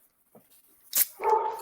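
A Doberman Shepherd dog gives a short, close whimpering bark, a quick yip followed by a sustained whiny vocalization lasting under a second, after a brief near-silent pause.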